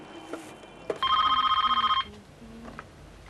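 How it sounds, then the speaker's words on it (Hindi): A telephone rings once in a rapid, trilling electronic burst lasting about a second, surrounded by quiet room noise. "प्रेमा जी को फोन किसने?"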